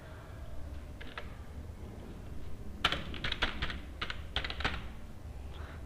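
Irregular bursts of keystrokes on a computer keyboard while Java code for a hand cricket game is entered, sparse taps at first, then a quicker cluster of clicks near the middle and end, close and fairly clear over a low room hum.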